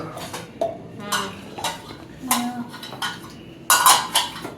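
Pots, pans and utensils clatter and clink in bursts while being gathered up in a home kitchen after cooking rice pulao, with scattered knocks and a brighter metallic jangle near the end.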